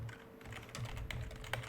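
Several soft taps on a computer keyboard, quiet and irregular, set against a faint electrical hum, with no talking.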